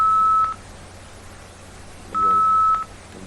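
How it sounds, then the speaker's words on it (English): A dial-up modem dials out with two loud, steady single tones separated by a quiet pause, each lasting about half a second, over a low background hum. "Just gotta dial up real quick."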